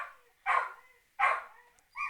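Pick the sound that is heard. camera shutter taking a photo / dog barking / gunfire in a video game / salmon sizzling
dog barking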